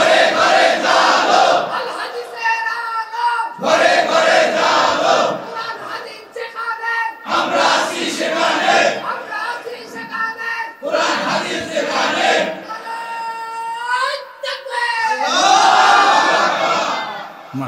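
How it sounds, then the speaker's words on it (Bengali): A crowd at a religious gathering chants the takbir in loud, unified bursts of voices, roughly five shouted phrases repeating every few seconds with brief pauses between them. "একটু তাকবীর দেওয়া যাবে না?"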